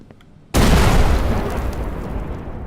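A cannon fires in a video game: after a quiet moment a sudden loud boom erupts, then a broad rumbling roar that slowly fades over the next two seconds.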